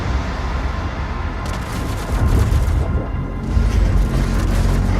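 BFG 10,000 superweapon firing in DOOM Eternal, a deep rumbling boom that swells in two heavy low surges over a sustained roar, loud and close, with no voices.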